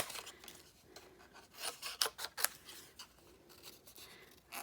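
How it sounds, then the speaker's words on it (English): Scissors snipping paper shapes, fussy cutting by hand: a quick cluster of short crisp snips and rasping cuts, close and fairly quiet, with no talking. "And then these we'll just fussy cut quick."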